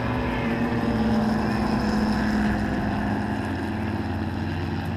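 Race cars, SRT Viper GTS-R among them, roar off the line at an ALMS race start, a dense, steady engine drone close and loud throughout with a slowly shifting pitch.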